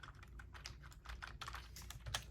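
Fingers tap out a search on a computer keyboard, a quick irregular patter of close, crisp keystrokes with no voice over them.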